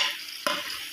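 Onions fry and sizzle in a pot, a steady hiss broken by a single sharp scrape or clank of a spoon stirring them.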